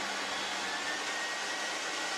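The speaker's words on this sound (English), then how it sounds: "Press the white button once to switch the vacuum on." A DR75C steam cleaner and vacuum switched on, giving a steady loud broadband whoosh of suction with a faint high whine, continuous and unchanging throughout.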